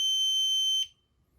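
Spektrum DX8e RC transmitter timer alarm sounding one steady, shrill electronic beep for most of a second before it cuts off abruptly, close and loud, with no voices.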